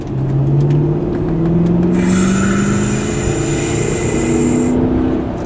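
A car pulls out of a roundabout and accelerates hard, its engine note climbing steadily in pitch over several seconds as the revs build, loud and close from inside the vehicle, with a thin high whine joining partway through.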